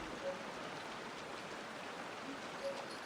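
Steady water in the video game Genshin Impact, a dense even rush like pouring rain or a flowing stream, moderately quiet and unbroken throughout.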